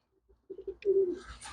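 Pigeons on a railing give a few soft, close coos, short low notes leading into a longer throaty call, with faint rustling after it.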